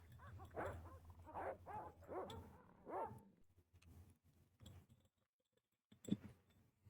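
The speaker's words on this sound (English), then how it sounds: "Not much here except for the dogs that definitely are out for us." Dogs in the Broken Sword adventure game bark and whimper in a few short bursts, fairly quiet, then fall silent before one last sharp yip.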